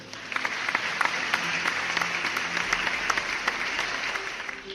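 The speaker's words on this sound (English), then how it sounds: "clap, everyone." An audience at an award ceremony applauds steadily, a dense patter of many hands clapping together at moderate level for several seconds before tapering slightly at the end.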